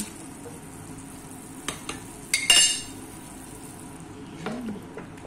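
Chicken pieces go into a pan of pasta sauce on the stove, bringing a soft simmering sizzle with a few clinks of a utensil against the pan and a brief louder stirring scrape midway.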